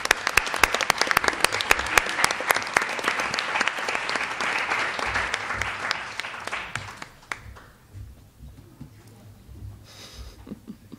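Audience applause congratulating a team of participants, loud sustained clapping from a crowd for about seven seconds before thinning into scattered claps and quiet murmurs.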